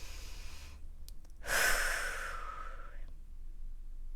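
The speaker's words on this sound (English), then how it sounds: "deep breath in" One slow, deep breath is drawn in close to the microphone in a quiet room. A soft airy inhale swells, peaks, then tapers away, with near silence before and after it.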